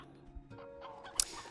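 Chickens clucking inside the video game Slime Rancher 2, a few soft, scattered clucks and calls at a modest level over a quiet game soundscape, with one brighter sharp peck-like sound near the end.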